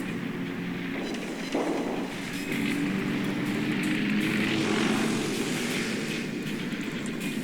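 Bomber aircraft drone through the sky in the World of Warships naval battle game, a steady propeller-engine hum with a slight swell in the middle, continuous and moderately loud with no speech.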